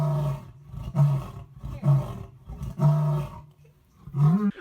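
A lion roars in a series of deep, pulsing grunts, about five loud close calls spaced roughly a second apart, with no talk over them.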